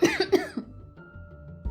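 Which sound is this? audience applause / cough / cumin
cough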